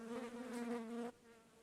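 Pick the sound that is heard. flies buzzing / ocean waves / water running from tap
flies buzzing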